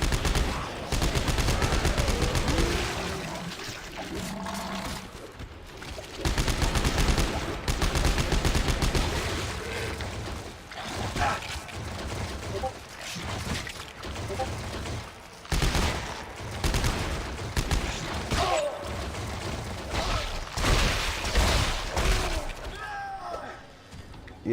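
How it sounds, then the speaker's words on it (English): Submachine gun fire in the Dead Space 3 video game, repeated bursts of rapid shots broken by short pauses, loud and close, with a voice talking between volleys. "that submachine gun, not gonna cut it"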